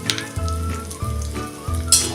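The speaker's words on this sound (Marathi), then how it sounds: "बघा, आता मोहरी चांगली तडतडली." Mustard seeds crackle and sizzle in hot oil for a tempering for a raw mango takku. A close, continuous frying hiss carries scattered pops and a low background hum, with no talking.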